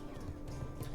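A horse mount in World of Warcraft, with steady hoof clip-clop and a whinny layered under game music and ambience, faint and continuous.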